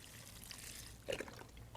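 Vegetable broth pours into a slow cooker as a short, quiet liquid trickle, with one slightly louder splash midway.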